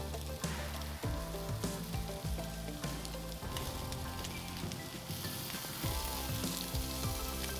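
Steak kabobs sizzle on a Mesa 400 grill, with a steady, loud hiss and crackle of frying meat running throughout, alongside some light clinks and scrapes.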